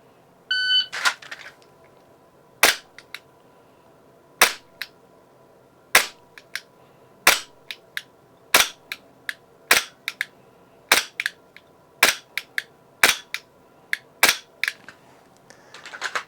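Dry-fire trigger presses on a pistol during a B8 drill run on a par timer, a start beep followed by a long series of sharp, crisp clicks at uneven intervals, close and distinct in a quiet room.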